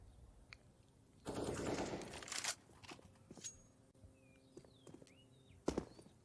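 Counter-Strike gunfire on the Inferno map during a G2 vs Liquid Major match: a rapid automatic burst, then scattered single shots and footsteps, all fairly quiet with game ambience between them.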